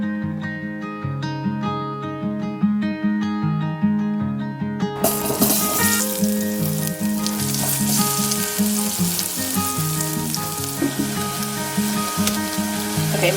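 Onions and ginger sizzle and crackle loudly in a hot pan during home vegan cooking, a steady close frying hiss that swells sharply after a quieter start, with faint clinks of stirring.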